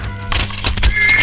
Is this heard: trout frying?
no